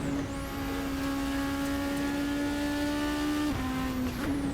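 Race car engine in Assetto Corsa, RSS Supreme 2025 car, held flat out with a sustained, steady high-pitched whine and a short dip near the end as it shifts down. The engine is loud and alone, with no talking.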